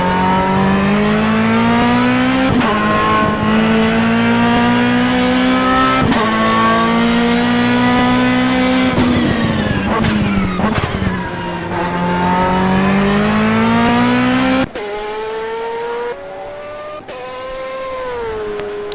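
Endurance race cars, among them a BMW, roar around the Sebring circuit in a loud, sustained engine drone that rises and falls in pitch as cars shift and pass, with a sharper change in tone near the end.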